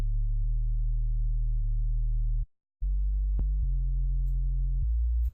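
A pure sine wave synth in a future bass production plays a low, smooth sustained tone, stepping through a few pitches with a short silent gap and a brief click midway.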